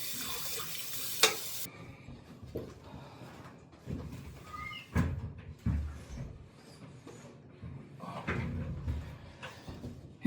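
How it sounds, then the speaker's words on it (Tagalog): A faucet runs at a sink while items are rinsed during kitchen work in Italy; the rushing water is broken by clatters and a few sharp knocks of objects being handled. "Babanlawan lang natin 'yung aalisin natin."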